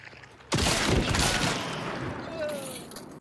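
A Crown and King semi-auto shotgun fires in the Hunt: Showdown video game, with one sudden, loud blast followed by a long, rumbling echo that fades slowly.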